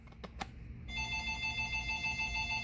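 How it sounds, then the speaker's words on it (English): An electronic telephone ring starts partway through, a steady warbling trill repeating at moderate volume over a few earlier soft clicks and taps. "the phone's ringing."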